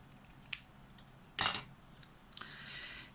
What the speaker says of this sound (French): je vais tout simplement le couper sur le pli